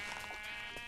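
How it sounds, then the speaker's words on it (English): A Minecraft sheep gives a brief, faint, nasal bleat, a single short wavering call heard quietly in the game. "And hello, sheep."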